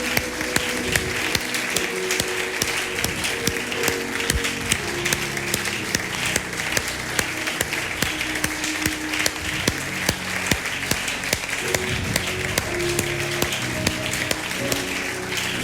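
A church congregation applauds during a service, with dense, continuous clapping that holds steady for about fifteen seconds over sustained musical tones underneath.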